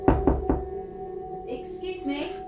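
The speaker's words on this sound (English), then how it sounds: "there was a knock at the door." Three quick knocks on a door at midnight, close and firm, followed by quiet room tone and faint rustling.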